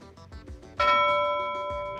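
A single auction bell is struck to close a sale, a bright ding that rings on and slowly fades after some quieter sounds at the start.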